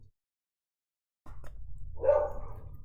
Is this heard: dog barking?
yes